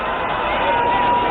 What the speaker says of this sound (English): you can see the crowds are surging now